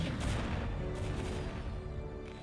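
Photon cannons firing at Vultures in StarCraft: Brood War, killing several: a quick run of booming, blast-like shots over a dense rumble, loud at the start and fading a little toward the end, with no one speaking.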